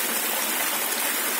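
Steady rushing of a river stream in Pantingan, Pilar, Bataan, a continuous broadband flow of water with no voices, holding close and even throughout.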